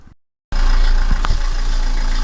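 A Dacia diesel car engine, just fitted with new glow plugs, starts instantly after a brief silence and settles into a loud, steady, rumbling idle close by, with a few knocks early on.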